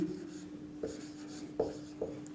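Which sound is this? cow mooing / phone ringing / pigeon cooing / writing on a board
writing on a board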